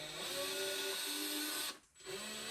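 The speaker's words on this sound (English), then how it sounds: "And now we're going to drill our holes in here." A power drill with its smallest bit bores small holes in wood, giving a steady high motor whine that dips briefly near the end, then spins back up.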